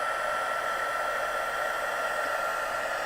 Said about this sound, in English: I'm going to turn on my heat tool